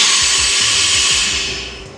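The chuck jaws of a CNC lathe close on a 4-inch diameter workpiece with a loud, steady mechanical whir and hiss, marked by low rhythmic knocks, before the sound tapers off at the end.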